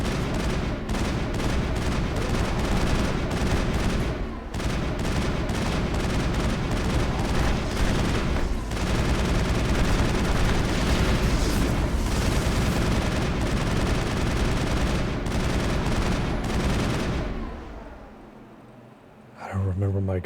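Dense, continuous gunfire in the Mass Effect video game, with rapid weapon bursts and booming impacts layered over a game soundtrack for almost twenty seconds, loud throughout before fading near the end, with a voice talking over it.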